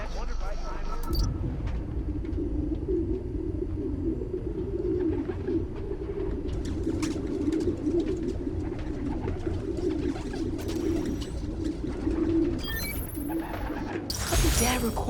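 Pigeons coo steadily in a park in the video game Spider-Man: Miles Morales, a soft low warble that runs throughout over a constant background hum, with brief bursts of other noise near the start and end.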